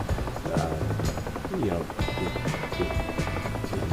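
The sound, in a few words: helicopter rotor in DCS flight simulator video game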